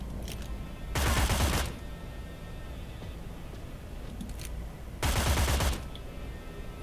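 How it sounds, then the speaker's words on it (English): Two bursts of assault rifle fire in the video game Cyber Knights Flashpoint, each a rapid volley lasting under a second, a few seconds apart, over quiet background. "Finish him off with the assault rifle."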